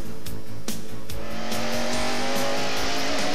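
Jeff Bodine's Motorcraft Ford stock car racing at Watkins Glen, the engine screaming loud and close as it revs up through the gears, with quick gear-change dips and a steady rising whine.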